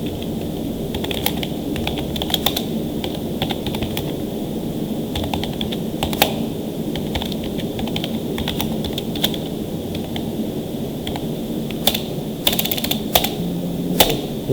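Typing on a computer keyboard while entering a staff advance in accounting software, with irregular bursts of close, crisp keystrokes and short pauses over a low steady room hum.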